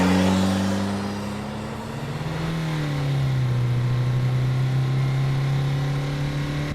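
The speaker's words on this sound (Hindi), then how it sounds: "कांपते हाथों से गाड़ी स्टार्ट की और तेजी से घर की तरफ निकल पड़ा।" A car engine hums close by, its pitch rising as it revs and then shifting into a steady higher drone as the car pulls away quickly.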